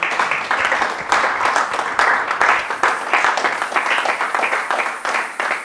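A church congregation applauding with steady, loud clapping and scattered cheers across a worship service, a dense rhythmic wash that persists throughout without a break.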